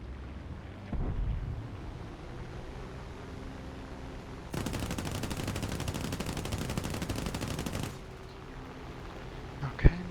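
Aircraft machine guns in War Thunder fire a loud, dense rattling burst lasting several seconds, set against steady engine drone, while a P-36A Hawk dives toward an I-16.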